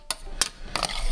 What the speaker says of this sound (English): Now all you gotta do is stir this up.